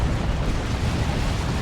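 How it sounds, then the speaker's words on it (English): A Stormblade's Plasma Blast Gun firing in Warhammer 40,000: Dawn of War 2, a loud, rumbling blast that roars as a dense continuous wash of explosive noise throughout. "And that's what it can do with its Plasma Blast Gun"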